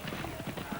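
Steeplechase horses, including Crimson Embers and Brown Chamberlain, gallop downhill in the 1983 Tote Double Chase, their rapid hoofbeats drumming under a race commentator's voice.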